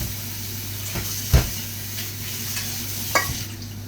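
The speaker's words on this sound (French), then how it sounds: "Je vais mélanger avec les pâtes." Food being stirred together with pasta in a pan, with a low steady hiss and sizzle throughout and a few soft scraping knocks and clinks, one louder at the start and another near the end, no talking.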